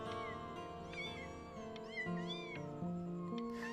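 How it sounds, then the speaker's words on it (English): Several cats meowing over one another indoors, a steady overlapping chorus of sustained, rising and falling cries with no talking. "But I really can't have 5 cats around the house."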